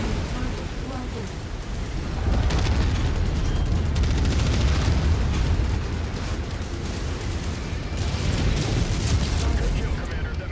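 A mech blowing up in the MechWarrior 5: Mercenaries game, a loud, dense rumbling blast that swells after about two seconds and keeps roaring to the end, with radio voices over it.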